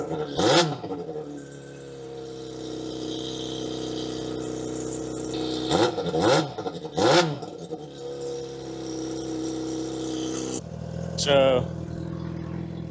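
A 2003 Yamaha YZF-R6 sport motorcycle fires up and idles close by, with several sharp rising revs, a steady high-pitched idle between them, and a brief mechanical clatter near the end; a voice speaks briefly.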